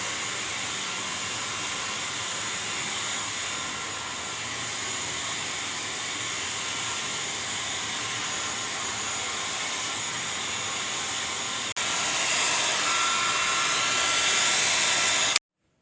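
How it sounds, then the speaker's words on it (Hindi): Hair dryer blowing on hair after a keratin treatment, a continuous close whooshing roar that grows louder near the end before cutting off. "30 मिनट के बाद हेयर ड्रायर से सुखा लेंगे"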